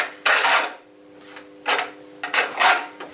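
A trowel scrapes and spreads tile adhesive across the back of a tile in several short, gritty strokes separated by brief pauses, close and fairly loud with no talking.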